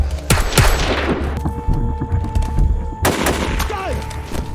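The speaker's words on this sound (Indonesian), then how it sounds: "Prince malah tertembak dari belakang dan Amber kembali jatuh ke tangan musuh." Gunfire from a film scene: several loud, sharp shots crack close by, a burst near the start and another around the three-second mark, with ringing tails between them.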